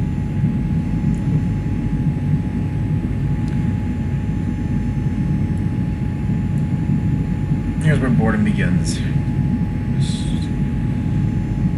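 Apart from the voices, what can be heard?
aircraft engine drone in flight, X-Plane 11 video game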